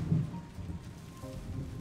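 Rain and rolling thunder in the Rainy Plains area of the video game Islets, a low rumbling storm under a constant wash of rainfall, with faint tonal game notes drifting over it.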